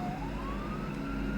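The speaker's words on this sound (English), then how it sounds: "Yes, those are definitely sirens." A siren in the video game Pitstop In Purgatory rises in one slow, faint wail over a low steady hum, with no one speaking.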